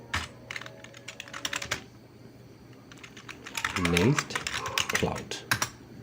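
Keys clatter on a computer keyboard as a terminal command is typed during a Nextcloud install on Linux, in quick bursts with a pause midway, while someone speaks over part of it.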